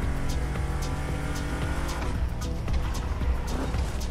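A 2020 Mustang Shelby GT500 drives in the racing game Motorfest, its engine droning steadily and loudly with brief tire noise through the run, no talk over it.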